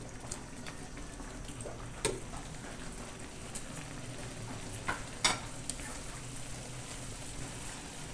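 Coconut milk simmering with fried tilapia and laing in a pot, a steady low bubbling and soft sizzle with occasional sharp stirring clicks from the utensil, continuous and close.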